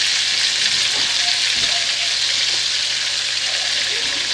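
Bacon fries in very hot grease, a loud continuous crackling sizzle with faint utensil knocks beneath it and a brief hint of voice in the background.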